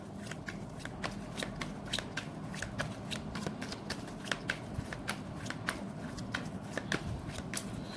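Tarot cards are shuffled steadily at close range, with rapid crisp riffling snaps repeating through the whole stretch over a faint background hum.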